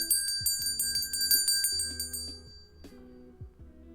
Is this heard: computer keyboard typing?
no